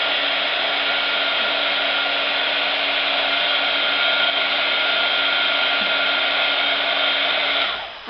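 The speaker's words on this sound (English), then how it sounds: "this way I'm not holding the heat tool on one spot and it's not going to burn" A heat tool blows with a steady, loud whirring hum while drying a damp watercolor coffee filter flower, running continuously up close before cutting off at the very end.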